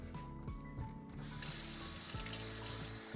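Water runs from a kitchen tap into a glass, a steady broadband rush that starts abruptly partway through and continues loudly to the end, over faint background music.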